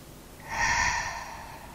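A single deep yoga breath exhaled through the mouth, a soft close breathy rush lasting about a second, alone in a quiet room.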